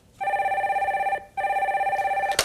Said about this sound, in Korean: 두 번째 전화 연결해 주세요